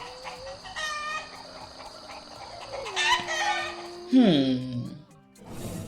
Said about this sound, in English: The chickens all went crazy.